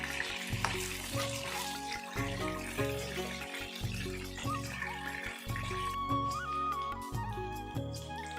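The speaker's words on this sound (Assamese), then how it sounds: "মই এতিয়া একেখিনি মাছ ভজা তেলতে 1 চামুচ পাঁচফোৰণ দি লৈছোঁ" Panch phoron spices sizzle in oil left over from frying fish for an Assamese fish curry with elephant apple, a steady close crackling hiss that runs through the whole stretch with no talking.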